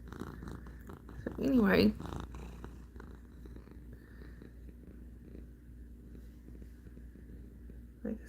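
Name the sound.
cat purring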